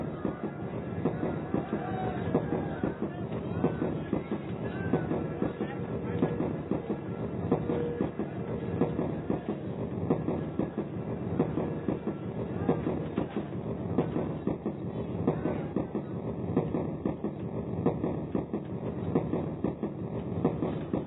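Train running near Mathura: a continuous rumbling roll with rapid rhythmic wheel clatter on the rails, steady and fairly close throughout, with nothing else standing out.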